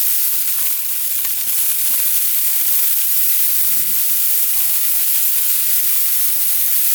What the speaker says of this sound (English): Spritz them with a little apple juice.